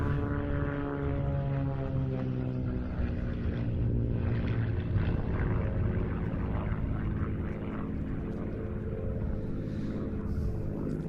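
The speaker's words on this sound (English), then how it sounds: "Phil gives us a chance to see just what the XA42 can do in a solo slot" An XA42 aerobatic propeller aircraft flies an avalanche loop at an airshow, its engine giving a loud, sustained drone that rises and falls in pitch as the plane climbs and rolls.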